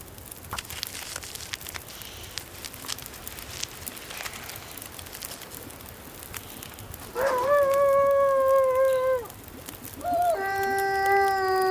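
A wolf in The Long Dark lets out two long, clear howls, the second following a short pause, heard over quiet ambient wind and faint background noise, no talk.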